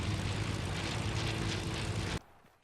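Steady, loud broadband roar of an airplane in flight, a constant droning engine rumble with propeller-like low tones that cuts off abruptly near the end, leaving near silence before a brief burst returns.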